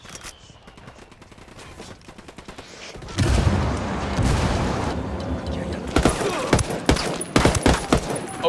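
Gunfire and mortar fire in the shooter game Ghost Recon Wildlands: sparse shots build into a dense, rumbling barrage of booms, then sharp, loud volleys of rapid gunshots crack over the din.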